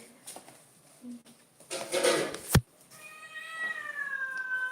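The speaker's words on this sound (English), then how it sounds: "my cat sees me and it starts meowing" A pet cat meows at close range: a short chirp, a rustle and a sharp knock, then a long, drawn-out plaintive meow that slides downward in pitch.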